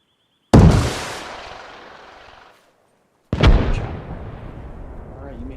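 A rocket launcher fired in a military video game after a backblast call, two separate blasts, each a sharp, loud boom trailing off into a long rumbling decay, with a short silence between them.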